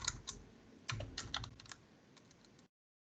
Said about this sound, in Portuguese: Vou acertar meu teclado aqui.